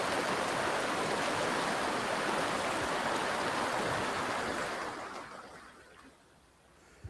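Hatchet Creek flows in a broad, steady rush of water close by, loud and continuous, then fading and thinning toward the end; no one speaks.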